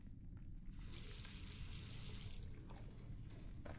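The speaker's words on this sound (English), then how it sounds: "All that remains is to rinse the plate." Water rinsing a photographic plate in the game The Last Door, a steady hissing stream from a tap that starts abruptly, runs for about two seconds and then tapers off faintly.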